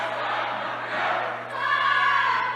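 A high school boys basketball crowd and student section roar and cheer in a gym, a steady loud wash of voices swelling and dipping over a low hum.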